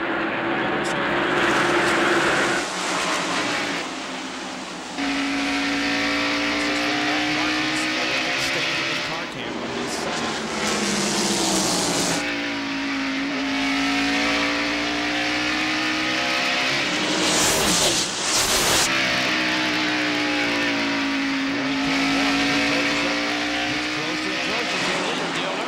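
NASCAR stock cars roar around Bristol Motor Speedway in the 1993 Food City 500, engines droning loud and steady with rising and falling pitch as cars pass, a commentator talking over the racket throughout.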